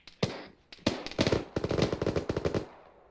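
Close gunfire during a field training exercise: a few separate sharp shots at first, then rapid bursts of cracks fired in quick succession, loud and fading at the end, with no voices.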